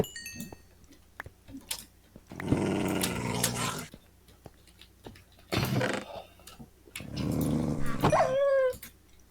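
Low, rumbling video game dog growls come in several separate bursts with quiet gaps between, alongside sharp clicks and a brief rising squeal near the end.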